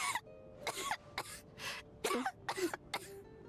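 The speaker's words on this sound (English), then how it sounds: "How long have you had that cough, Tonya?" A female character in the Genshin Impact video game coughs in a harsh fit of about six coughs, each distinct and close, with brief throat-clearing breaths between them and no talk.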